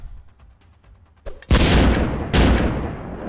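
Two loud explosive booms from Minecraft creepers exploding in a video game go off in quick succession after a quiet stretch of soft tapping, each blast decaying into rumble.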